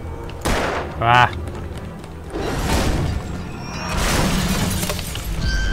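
Gunshots and shattering glass in the video game Alan Wake, several sharp crashing bursts scattered through continuous game noise, with a brief voiced exclamation.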